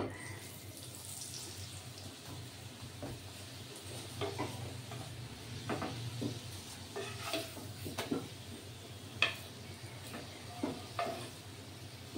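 Oil crackles and sizzles on a hot griddle as a sattu paratha fries, with soft, uneven pops and scattered clicks of a utensil over a low background hiss.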